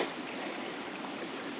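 A creek in Salt Fork State Park, its water running in a steady, close, broadband rush without pauses or voices.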